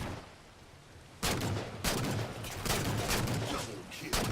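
Battle rifle fire in Halo 4 multiplayer on the Settler map: several sharp, loud bursts break over a quieter background of game noise, spaced roughly half a second to a second apart, with talk faintly underneath.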